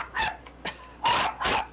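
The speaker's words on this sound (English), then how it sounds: "Oh my heavens, the dog." A dog barking several times in quick succession, sharp and fairly close, with short gaps between barks.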